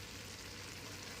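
Oil sizzles and spits softly as coriander powder goes into the pan for a home-cooked biryani, a faint continuous frying hiss with no talk.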